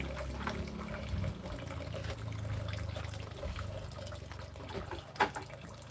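Water runs and trickles at home, with a steady low liquid pour and gurgle close by, fairly quiet, and a brief sharper knock near the end.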